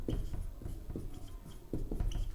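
Someone writes on a board during a Hindi-language chemistry lesson on atomic structure. Short scratchy strokes and soft taps come in quick irregular bursts, close and fairly quiet, with no speech.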